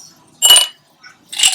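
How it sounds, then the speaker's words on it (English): Ice cubes clink and rattle against a jar as they are shaken loose for tequila on the rocks, two short bright bursts with a faint tap between, close and clear. "you get a few ice cubes here, not wanting to come out of the jar"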